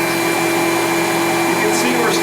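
A Riccar vacuum cleaner runs with a loud, steady motor drone and airy rush of suction, unbroken from start to finish.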